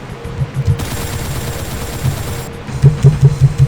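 Two machine guns wielded at once in the game Doom fire in rapid, overlapping bursts, a steady dense stream of loud gunshots with a faster burst of thumping rounds near the end, no voices.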